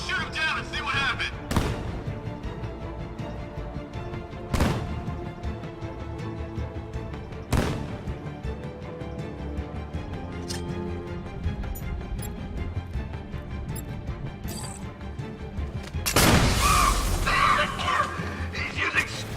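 Gunfire and explosions in Batman: Arkham Knight on the Militia Grounds stage: a few isolated loud blasts spaced seconds apart, ending in a bigger sustained burst, over quieter game ambience.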